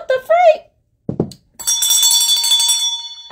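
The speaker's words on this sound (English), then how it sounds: "I just want to ring the bell to rest his soul." A bell rings in memory of a former Titans player, a bright, sustained ringing tone that follows a short voice and a dull thump, close and loud before it fades.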